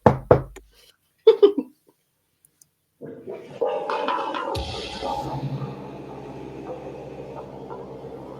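A few sharp raps on wood, two quick clusters of knocks near the start, followed after a pause by a louder rumbling, rushing sound that settles into a steady hum.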